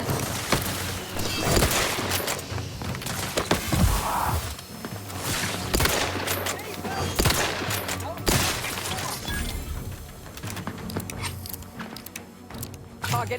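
Gunfire in The Outer Worlds 2, a sustained firefight of rapid shots, impacts and shattering hits that continues almost nonstop and is loud throughout, with spoken game voices mixed in.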